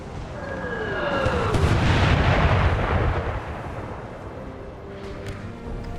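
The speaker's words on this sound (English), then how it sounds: "So we're still doing lots of howitzer work over here." A sustained howitzer artillery barrage in Napoleon Total War with an American Civil War mod, rolling booms swelling into a loud, continuous rumble and then easing to distant thuds.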